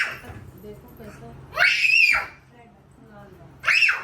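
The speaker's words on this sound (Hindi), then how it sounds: "धनी ऐसे चिल्लाते नहीं।" A young child screams in two loud, high shrill bursts separated by a pause at home, with quieter murmuring and background noise between them.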